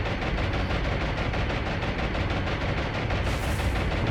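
Anti-aircraft guns blaze in the naval combat game War on the Sea as aircraft attack a battleship group, a loud, dense, unbroken barrage of rapid overlapping shots rattling steadily throughout with no voices.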